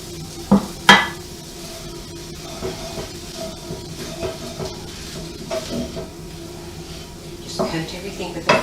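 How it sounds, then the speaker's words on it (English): Flour is stirred into a lasagne sauce in a pan, with soft scraping and a quiet sizzle, a couple of sharp utensil knocks near the start and a voice talking over the cooking. "Just coat everything with the flour and let it cook out for about 3 or 4 minutes"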